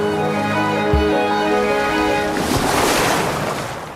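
Turbulent ocean waves wash and surge over slippery rocks where blue mussels cling, with a steady tonal hum early on before a loud, broad rush of surf builds and swells through the rest.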